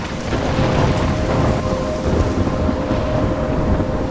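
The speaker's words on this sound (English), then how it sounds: "I'm trapped in a storm?" Heavy storm in the game Life is Strange, loud steady downpour of rain with deep rolling thunder underneath, continuous and close with no voices.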